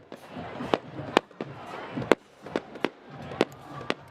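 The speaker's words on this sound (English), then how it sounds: "The fireworks are still going." Fireworks boom and crack at a high school homecoming football game, with about ten separate sharp bursts at uneven intervals over faint crowd noise.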